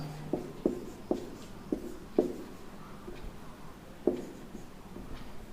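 Chalk or marker tapping and scraping on a board in a primary-school maths lesson, a series of sharp irregular clicks and short strokes under a quiet room, with no talk.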